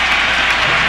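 Loud, dense roar of a basketball crowd cheering at a 2003 playoff game between the Mavericks and Trail Blazers in Portland, a continuous wash of noise with no distinct gaps.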